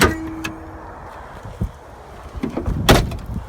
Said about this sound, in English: after I slammed the door all angry